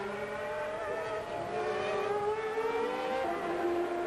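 Formula One cars from the 1995 season race past, their high engine whines sweeping and overlapping in steady, loud pitch glides as several cars pass in close succession.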